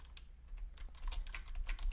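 Code being typed on a computer keyboard: quick, uneven runs of close, crisp key clicks with brief pauses between bursts.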